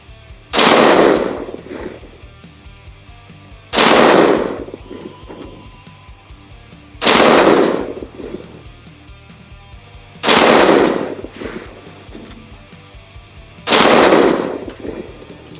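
Five loud, sharp gunshots from a Bravo Company 11.5-inch 5.56 BFH AR-15 pistol with SBA3 brace firing Winchester .223 ammunition, evenly spaced about three seconds apart, each with a booming outdoor echo trailing off.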